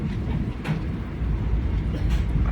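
Passenger train rolling through Washim railway station heard from on board, a continuous loud low rumble with rattling carriage noise and occasional clatter.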